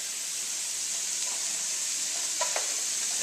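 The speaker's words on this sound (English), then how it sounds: "you hear how that sizzling is going down?" Food sizzles steadily in a pan while a spoon stirs it, a constant loud hiss with a few small scrapes and taps from the spoon near the end.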